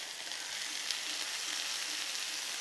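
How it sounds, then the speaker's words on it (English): Lamb and chopped potato sauté in a pan, giving a steady, soft, even sizzle with no talk over it. "Now all this has to saute with a lovely color combination again"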